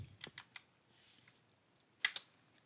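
Keys clatter on a computer keyboard as a command is typed, a quick run of soft taps near the start, then a pause and two sharper, louder keystrokes near the end, close and with no voices.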